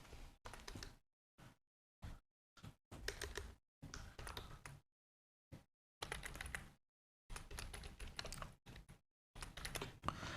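A URL is typed on a computer keyboard in quick, light clusters of keystrokes, separated by short silent pauses. The clicking is soft and close, with no voices.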